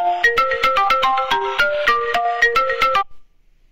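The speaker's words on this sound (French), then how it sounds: "c'est pour si j'ai perdu mon téléphone, ça le fait sonner" A smartphone rings after being triggered remotely from a smartwatch app, playing a bright melodic ringtone of rapid repeated notes for about three seconds before stopping abruptly, loud and close with no talking.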